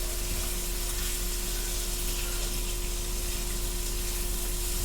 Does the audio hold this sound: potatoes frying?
yes